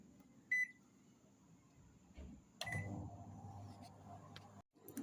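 An oven is set with a short beep and button presses, then its timer runs with a steady low hum and a faint click, close by in a quiet room.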